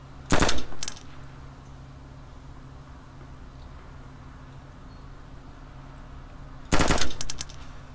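Two short bursts of rapid automatic gunfire in DayZ, shooting at zombies, one near the start and another near the end, loud and close over a steady low background hum with quiet stretches between.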